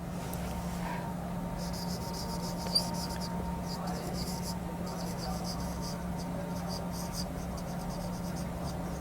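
A teacher writes on the board during a class, marker or chalk strokes coming through as faint, intermittent scratchy bursts over a low steady hum, with a soft voice occasionally present.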